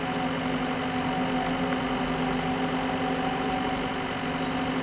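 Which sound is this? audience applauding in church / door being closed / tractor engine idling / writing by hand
tractor engine idling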